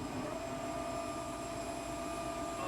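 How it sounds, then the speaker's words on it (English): Aircraft flaps retracting in a CRJ-1000 flight simulator game, a steady mechanical whine blended into continuous loud engine hum, with no talking. "nice sounds for the flaps"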